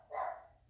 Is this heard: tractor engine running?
no